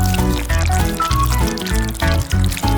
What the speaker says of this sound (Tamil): சாக்லேட் திரவமாக மாறும்போது அதை ஒரு கோப்பையில் ஊற்றவும்.